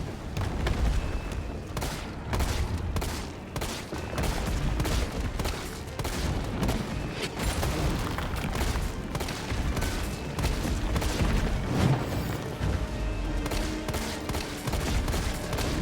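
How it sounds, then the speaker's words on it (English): Mine rounds from a grenade launcher fire repeatedly in Resident Evil 3, a dense, loud barrage of blasts and booms layered over a constant wash of game music and effects, with no talk. "so pop off our last mine round here. It should be enough to finish him off"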